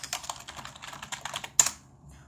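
Quick typing on a computer keyboard, a close run of crisp key clicks in an irregular rhythm, ending with one louder keystroke and a short pause.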